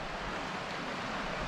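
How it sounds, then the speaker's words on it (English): Fish Creek, the main river running along a valley in the Ansel Adams Wilderness, heard as a steady, even rush of flowing water, fairly faint and continuous with no voices. "it's the main river that runs along this valley here"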